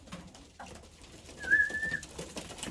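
A pet pigeon gives one clear cooing call, quiet against soft background noise, with no talking.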